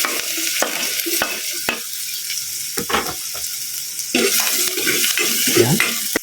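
Garlic sautés in a small amount of oil in a pan, giving a close, crackling sizzle broken by sharp scrapes and taps of a utensil stirring against the pan, with no voices.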